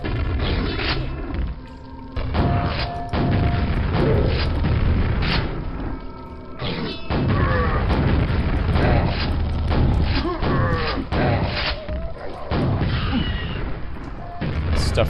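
Grenade launcher explosions in the video game Quake, loud booms and crashing thuds repeating irregularly across the stretch, mixed with mechanical clanks and other game noise.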